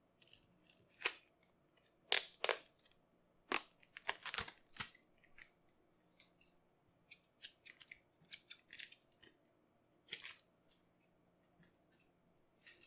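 Scissors snip plasma tape in a quiet room, a series of sharp, close cuts in irregular clusters with pauses between, some bursts louder than others, no talking.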